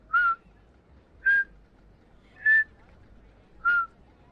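A person whistles four short, evenly spaced, high single notes, imitating the occasional whistle sound from Roller Coaster Tycoon 2; each note is clear and close against near silence.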